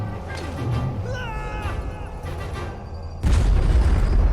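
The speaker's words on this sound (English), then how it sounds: "ele explodiu essa bomba na marretada" A bomb struck with a hammer bursts in the game Little Orpheus, a sudden loud boom that cuts in after a stretch of quieter game sound and a brief meow-like tone, then holds as a dense roar.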